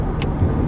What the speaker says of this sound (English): Okay, so driving the Mustang